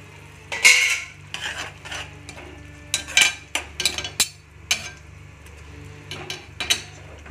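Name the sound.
mashing cooked brinjal in a pan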